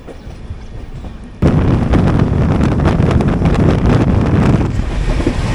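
The 12618 Mangala Lakshadweep Express runs at speed, near 130 km/h, with a steady broadband roar and rattle heard from on board that suddenly grows louder and stays loud throughout.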